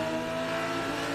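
A race car engine roars steadily at high revs in an onboard view at Road America, loud and continuous through the brief moment, with no clear gear change.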